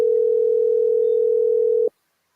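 A single steady electronic tone on an outgoing phone call holds unbroken for almost two seconds, then cuts off abruptly, clear and alone with no talk.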